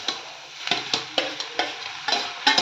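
Greens are tipped into onions frying over a medium flame for soppu upsaru, giving a steady sizzle with repeated stirring scrapes and clinks against the pan; no one speaks.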